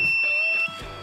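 A pneumatic hot stamping foil press machine sounding its alarm, a short high electronic beep that holds for about half a second and stops, close and clear against a faint workshop background.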